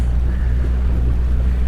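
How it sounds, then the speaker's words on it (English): The engine of the sailboat DHL Starlight keeps running with a steady low drone under wind and water noise at a harbour in Hobart. "Oh, engine's still going."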